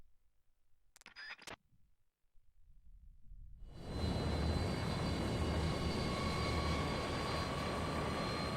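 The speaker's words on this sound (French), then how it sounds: "le gros avion Ruskov qui arrive en Alaska" A large Russian plane in Metal Gear Solid 3 flies toward Alaska, its engines building from near silence into a loud, steady, broadband roar that holds to the end, after a couple of brief sharp clicks early on.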